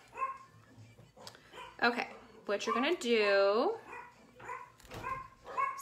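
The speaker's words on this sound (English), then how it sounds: "my family's home, so the dogs are going crazy" Dogs at a family home barking and yipping in short bursts in the background, with one higher, drawn-out whining howl in the middle, while someone talks over them.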